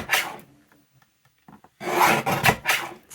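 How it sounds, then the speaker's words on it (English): Scissors or a blade cutting the black border off cardboard packaging for junk journal ephemera: a short rasping cut, a pause with faint handling, then a longer loud, close stretch of scraping, crunchy cutting. "I think I'm just going to cut off the black border"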